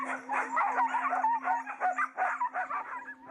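Many dogs rounded up for the Thai dog meat trade bark, yip, whimper and howl together from cages, a dense, close, continuous chorus over a steady low hum.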